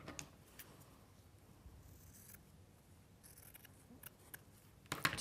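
Scissors snipping through denim fabric for a notebook cover in a craft studio, a few quiet, close crisp cuts spaced apart with a brief double snip near the end, otherwise near silence.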